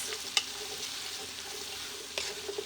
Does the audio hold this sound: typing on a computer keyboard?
no